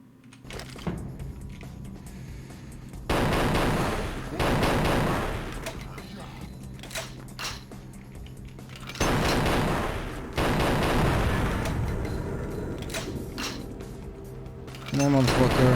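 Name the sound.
gunfire from video game Vampire the Masquerade: Bloodlines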